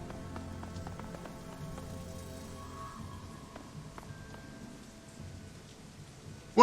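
Steady pelting rain in the video game Shadowrun: Hong Kong, a soft even patter of drops on surfaces with a few faint tones behind it, continuous and without speech.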